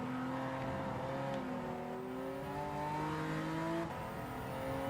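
A McLaren's engine in the Gran Turismo 7 racing game, a loud steady drone with shifting pitch as revs rise and settle, holding close throughout with a brief tonal change near the end.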